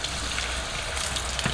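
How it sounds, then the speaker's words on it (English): Quinoa being rinsed under a running kitchen tap, a steady, close gush of water over the grains that holds evenly through the brief moment. "We are going to wash it thoroughly with running water."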